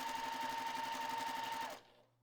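A sewing machine runs fast and steady while chain piecing quilt scraps without cutting the thread, its needle chattering rhythmically for nearly two seconds before stopping abruptly into a faint low hum.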